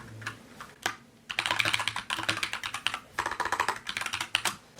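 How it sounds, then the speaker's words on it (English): Fingers type steadily on a computer keyboard, a close, fast flurry of clicks in bursts separated by short pauses, with no talking. "Let's get to typing."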